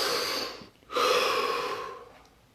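A person takes a long, deep breath: an airy exhale, a brief pause, then a strong, close inhalation that slowly fades away, with no talking.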